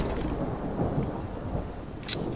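Thunder effect from the Lightning Strike spell in MTG Arena, a dense low rumble rolling continuously like a storm with rain-like hiss, steady and loud, capped by a brief sharp crackle near the end.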